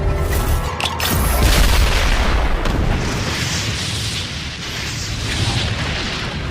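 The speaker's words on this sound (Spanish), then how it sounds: "provocando una gloriosa explosión de fuego" An ammonium nitrate blast igniting a methane pocket in Yakutia erupts as a huge, deep explosion, with a heavy initial boom followed by a long, rumbling roar that slowly thins out, loud and alone without any talking.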